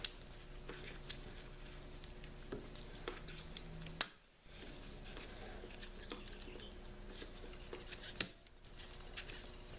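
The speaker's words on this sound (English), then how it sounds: "Cut my tie wrap." Pliers or cutters snip a plastic tie wrap during a valve stem seal job, with two sharp clicks several seconds apart over a quiet, faint background of workshop noise.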